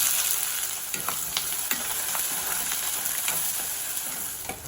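Finely chopped onions fry in hot oil with mustard seeds, urad dal, methi and jeera, giving a steady close sizzle with small pops and crackles from the spices throughout.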